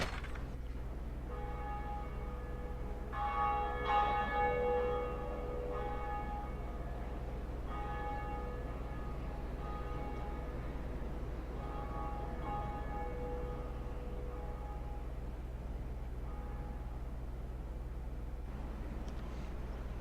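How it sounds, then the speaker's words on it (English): Church bell tolling in the Dark Souls video game, a few harmonic strikes ringing out over a steady low drone, with long decaying tones and no voices. "We rung the bell!"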